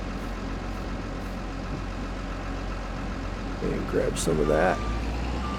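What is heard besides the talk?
wheel loader engine and reversing beeps in a farming video game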